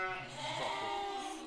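A Suffolk Cross Hampshire Down sheep gives a single drawn-out bleat, close and clear, in a pen before shearing.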